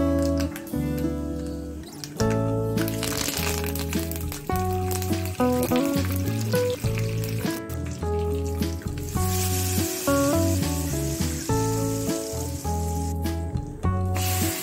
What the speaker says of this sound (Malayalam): ആവശ്യത്തിന് കറിവേപ്പിലയും ചേർത്ത് കടുക് പൊട്ടിച്ചെടുക്കാം.